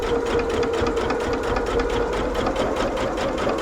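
A sewing machine runs straight stitches across a rag quilt, a loud, steady, close-up motor hum with rapid needle chatter throughout, no talking.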